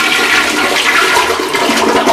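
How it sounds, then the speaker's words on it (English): A toilet flushes close up, a loud continuous rush and gurgle of water that lasts the whole moment without any voices. "And I flush it, and it unclogs the toilet."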